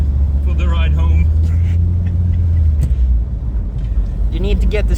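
A car runs on a frozen ice track at a speed event in Sandviken, its engine a loud, low steady rumble close by that eases slightly near the end, with people talking over it.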